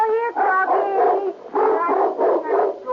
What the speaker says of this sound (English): Yes, a Doberman Pinscher.